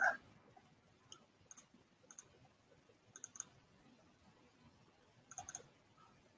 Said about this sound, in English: So double clicking on it lets you rename it.